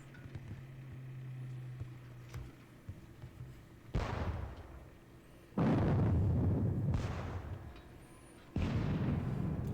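Distant artillery booms in a Napoleonic wargame of the Battle of Friedland, three heavy blasts several seconds apart, each rolling out into a long rumbling decay over quiet ambience.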